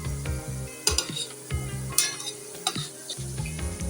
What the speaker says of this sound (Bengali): বাঁধাকপির পকোড়াগুলো এর মধ্যে আমি এগুলোকে উল্টে নেব।